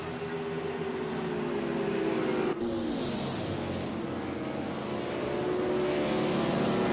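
Race cars on a Texas oval circle in a steady engine drone, with a sharp shift around the middle as a pack of cars closes in and passes, fairly loud, no voices.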